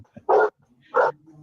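A dog barks twice, close and loud, with a short pause between the barks and quiet background murmur.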